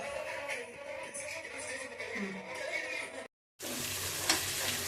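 Green chilies, curry leaves and onion sizzling in hot oil, a continuous crackling fry with stirring, broken by a brief silence before the sizzle returns louder.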